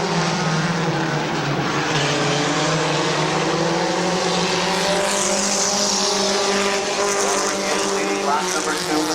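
Compact race cars roar around Midvale Speedway in a steady, loud pack, engines droning continuously with a rising pass late on, while a commentator talks over the racing.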